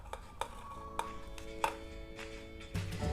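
Banana pieces dropped into a blender jar for a banana shake, several light thuds and knocks spaced irregularly, with a faint ringing resonance from the jar, ending in a louder clunk.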